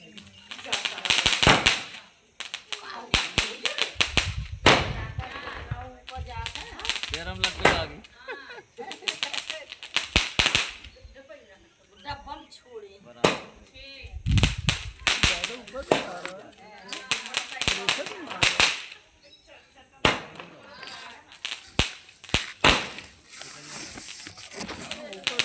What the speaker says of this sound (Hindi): और यहाँ बस सती देव के शुरू हो चुके हैं पटाखे